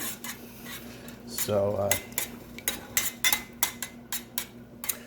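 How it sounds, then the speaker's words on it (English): A ham glaze of marmalade being stirred in a pan over low heat, with repeated metal scrapes and clinks of a utensil against the pan and one brief spoken word near the start. "just mix that up and heat it, low heat"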